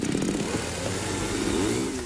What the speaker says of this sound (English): The roar of a chainsaw shatters the silence